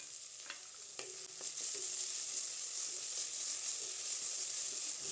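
Onions frying with salt in a pan, stirred steadily: a continuous bright sizzle with a few scraping knocks of the spoon early on, close and alone.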